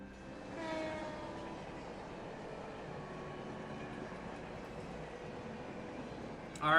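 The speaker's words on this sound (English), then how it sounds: "Is that the last train bound for Calvert?" A video game train rumbling past at a station at night, a steady broad mechanical roar with a faint rhythmic clatter, holding at an even level before a brief louder burst at the end.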